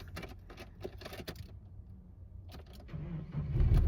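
A vehicle engine is started in the dark. Soft clicks and handling noises come first, then the motor catches near the end and rises into a low, steady idle.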